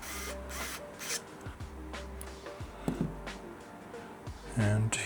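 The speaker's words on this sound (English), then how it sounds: "just slightly tighten the first screw" Small screws being tightened into a Tilta camera cage plate for a Sony A1 II, with soft metallic clicks and scraping handling noises scattered through the clip and a voice speaking at times.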